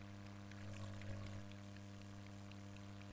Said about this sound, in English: I'm just going to pour it into my wells and try to get them as fairly even as I can